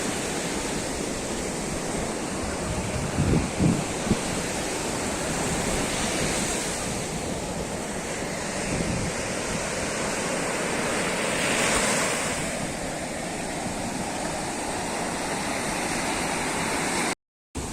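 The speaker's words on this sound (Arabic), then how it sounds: "واسيبكم تستمتعوا بهوا وجمال البحر وصوت الموجه التحفه" Sea waves breaking on the beach at Agami in Alexandria, a steady broad wash of surf with gentle swells rising and falling, the water fairly calm and the roar continuous throughout, no voices.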